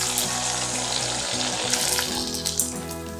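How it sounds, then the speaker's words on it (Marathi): Sago and potato papad frying in hot oil, a steady dense sizzle and crackle close up that runs for the whole stretch, with no voices over it. "असंच तळून घ्यायचं आहे असे तळून कुसकुशीत पापड झालेले आहेत"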